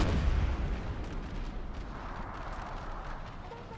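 Artillery fire in a Napoleon Total War 3 mod battle between American and Prussian forces, a heavy low boom at the start trailing into a rumbling, crackling wash of distant gunfire.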